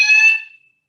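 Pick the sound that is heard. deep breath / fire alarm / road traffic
fire alarm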